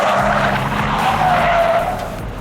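A BMW 840D with four-wheel steering swinging through a tight track hairpin, its tires squealing loudly and steadily over the engine for the whole turn, close and sustained before easing off slightly at the end.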